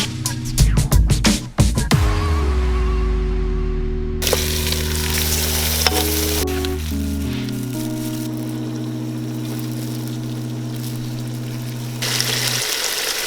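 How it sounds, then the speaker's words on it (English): Beef and masala for nihari hitting a hot pan, a few sharp clatters and bangs at first giving way to a steady sizzle with a sustained tonal hum beneath, close and fairly loud without talking. "we're gonna fry it really good for at least 8 minutes"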